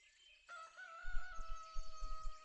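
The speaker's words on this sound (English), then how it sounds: "That chicken coming off on a Necromancer." Chicken courier in Dota 2 crowing, a tonal cock-a-doodle-doo over busy game effects and low rumbling thuds, moderately loud, no talk.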